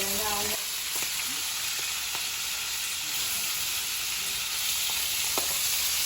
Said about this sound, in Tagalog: hayaan lang muna natin siya na maprito